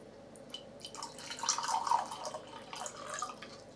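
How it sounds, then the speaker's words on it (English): Tap water splashing and dripping as fruit and vegetables are rinsed under it, a soft, uneven trickle that swells in the middle and stays fairly quiet throughout. "You just wash before you eat your fruit, before you eat your vegetables."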